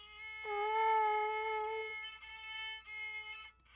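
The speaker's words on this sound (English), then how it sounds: "I was playing open A and the A on the D string, and they didn't quite sound the same" A violin sounds a sustained bowed note on the open A string, then a second bowed A on the D string, both clear and close with a thin, slightly wavering tone and no talking.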